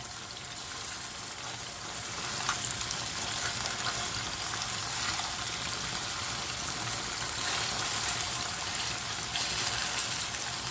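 Fish fry in a pan with a loud, continuous sizzle and crackle that holds steady throughout and has no talk over it.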